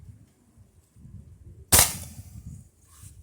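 A single sharp crack of a .22 caliber pellet gun firing a round nose pellet into a ballistic gel rabbit. The shot is loud and close against a low background rumble, with a brief decay.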